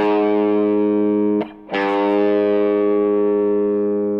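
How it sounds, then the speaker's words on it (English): A distorted electric guitar rings out a sustained note, cuts off briefly, then is picked again and slowly bent up a half step at the 4th fret and held, fading slowly. "we bend the half step so we can hear this 4th fret here"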